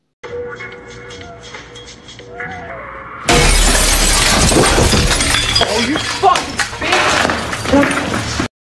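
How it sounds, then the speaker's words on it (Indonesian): A glass window suddenly shatters in a film scene: after a stretch of quieter sound under a voice, a loud crash of breaking glass bursts in and is followed by scattered tinkling debris and continued noise. "ia pun dikagetkan dengan kaca yang tiba-tiba pecah"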